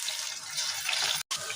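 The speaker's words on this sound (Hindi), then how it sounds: "पेस्ट डालने के बाद यहाँ पानी डालेंगे" Water pours steadily into a pan holding onion, ginger and garlic paste for a spinach dish, a continuous close splashing stream with a brief cut near the end.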